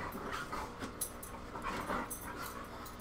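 Dogs pant steadily and close by in quick breathy bursts, with a few soft whimpers mixed in and no talking.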